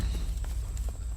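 A horse walking in a video game, with soft clip-clop hoofbeats in a slow steady rhythm over a loud, constant low rumble of background sound.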